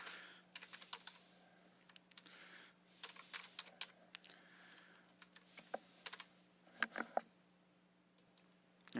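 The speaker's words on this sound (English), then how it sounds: "I'll save you watching me type here." Typing on a computer keyboard: close, crisp clicking keystrokes arriving in quick bursts separated by short pauses, over a faint steady hum, with no talking.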